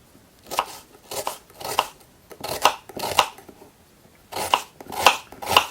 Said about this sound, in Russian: режем лук